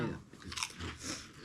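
Close, crisp crunching as someone bites and chews grain-free cinnamon crisp mini buñuelos made with coconut sugar, in a few quick bites.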